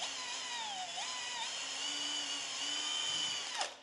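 A power drill bores a pilot hole for a guide screw in wood, part of setting up a router to machine a wooden serving tray; steady high whine, close and loud, winding down at the end.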